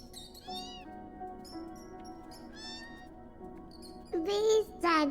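A kitten meows several times, with short rising cries spread across a quiet room and two louder, closer meows near the end.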